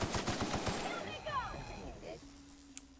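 Rapid bursts of gunfire from The Outer Worlds video game, with a fast volley up front, while voices talk over and around the shooting.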